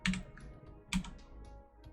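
Two quick bursts of computer keyboard typing, close and fairly loud, separated by a short pause.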